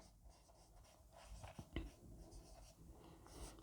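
A pen writes the date on a handwritten leave application, making soft, close scratching strokes with a few sharper taps, quiet and faint, with no talking.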